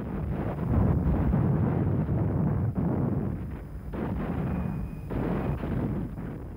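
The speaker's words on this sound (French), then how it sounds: "Les Alliés attaquent avec les chars, l'artillerie, l'infanterie et l'appui aérien" Wartime battle with tanks and artillery pounding away, a dense, continuous roar of heavy gunfire and blasts with brief dips, loud and sustained throughout.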